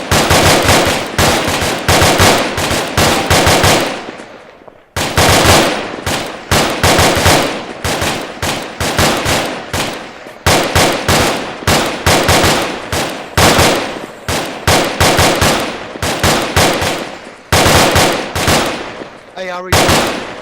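Sustained, loud gunfire fills a tactical infantry drill: rapid machine-gun bursts and rifle shots crack in dense, repeated volleys with only brief pauses between strings.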